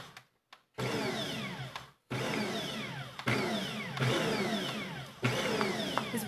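A steady electric whirring, likely a food processor or mixer cutting butter into flour for a pie crust for chicken cranberry pot pie, loud and close in several continuous bursts separated by brief stops.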